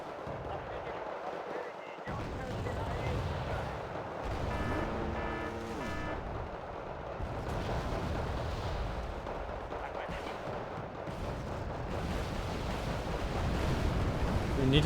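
Artillery fires in a video game battle, repeated heavy booms and rumbling blasts over a dense roar of combat noise, steady and loud throughout, with a voice talking at times.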